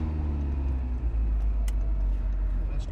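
A Dino Evo Restomod car driving, a steady low engine drone and road rumble heard from inside the cabin, continuous with a faint click or two.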